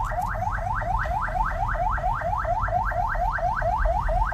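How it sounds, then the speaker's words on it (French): Siren of an ambulance on a Kinshasa boulevard at night, a steady rapid rising-falling wail repeating about four times a second, loud and continuous over low traffic rumble, with no talk. "C'est une ambulance."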